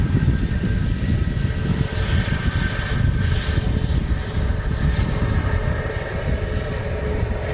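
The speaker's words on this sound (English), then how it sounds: "Reverses out there on the right-hand engine, slowing the aircraft down" An Airbus A350 on its landing roll at Manchester Airport, engines in reverse thrust: a steady, loud broadband roar that holds throughout and gradually eases slightly.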